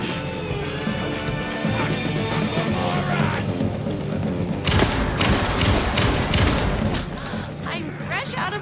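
Rapid bursts of gunfire and impacts from the video game Alan Wake 2, loud and dense, with a sharp surge of shots and crashes midway through and steady game sound beneath throughout.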